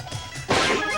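A forceful power-shot smash in a Nintendo tennis game, a short muffled hit that bursts into a loud, sustained crash lasting to the end.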